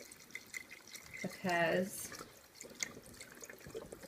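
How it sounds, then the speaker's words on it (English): Water and chicken stock poured into a cooking pot for red beans and rice: a brief gurgling splash of liquid, close and clear, surrounded by a cook's talk and soft kitchen clatter. "now I'm going to just add enough water and stock"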